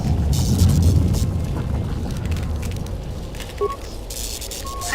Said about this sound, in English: Success! The hyperdrive is online.